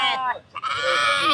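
Lamb bleating at a busy sheep and goat market, a close, loud, wavering cry that breaks briefly and then resumes in a longer sustained bleat.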